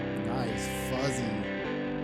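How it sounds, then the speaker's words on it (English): Fuzzy, distorted guitar and synth texture from a song, a dense sustained wash of saturated tones with a singing voice over it, steady and loud throughout. "Good distortion"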